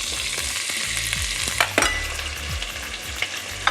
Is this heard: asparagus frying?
yes